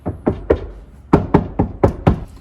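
Knuckle taps on a car door skin lined with sound-deadening sheet on an LS Patrol wagon, eight dull, solid knocks in two quick groups, close and clear, with no ringing after each hit and no talking.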